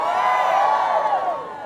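A crowd at a Latino community conference cheers and whoops in a sustained, loud swell of many voices that fades slightly toward the end.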